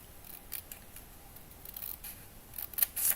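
Scissors snipping out a small piece of paper or card while building a miniature kitchen, a scattering of soft, close crisp cuts that grow denser and slightly louder toward the end, no talking.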